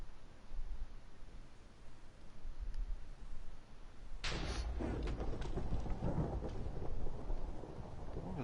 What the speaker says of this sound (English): I think there was a big lightning strike.